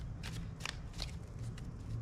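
Tarot cards being shuffled close by, several quick papery riffling bursts in a row with no talking over them.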